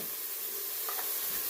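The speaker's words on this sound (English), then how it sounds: "we're using the butter and the oil and the brown bits to soften our onions" Onions softening in butter and oil with browned meat bits in a braising pan, giving off a steady, close, hissing sizzle with a faint stir partway through.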